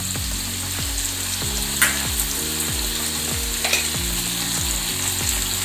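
Ginger garlic paste sizzles in a hot pan for a mutton biryani while a spoon stirs it in a repeated rhythm of scraping strokes, close and steady with a constant frying hiss.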